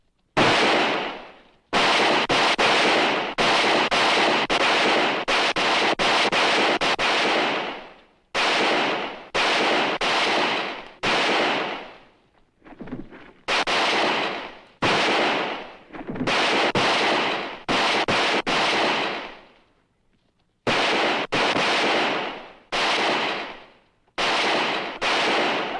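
A Western shootout erupts in dense bursts of rapid, loud gunfire, the volleys broken by brief pauses and sporadic single shots, continuing for most of the stretch with no voices.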